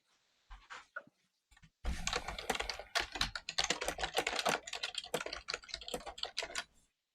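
Rapid typing on a computer keyboard, starting with a few scattered keystrokes and then a dense burst of close, clicky key presses lasting several seconds before stopping.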